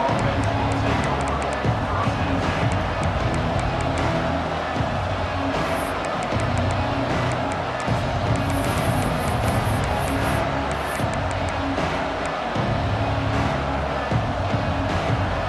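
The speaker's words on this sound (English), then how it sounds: "This crowd ready to make its presence known." A stadium crowd in the College Football 26 video game roars loudly and without a break throughout, with swelling cheers layered over the dense wash of noise.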